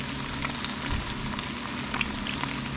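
Scored bream frying in hot oil, a dense, continuous sizzle and crackle with small pops throughout, close and steady, with no talking.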